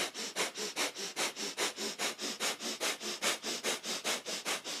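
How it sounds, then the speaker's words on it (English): Breath of fire in kundalini yoga, rapid panting breath through the nose: around twenty quick, even, forceful nasal exhales and inhales in a steady pumping rhythm, close and alone. "Breath of fire is our panting breath through the nose"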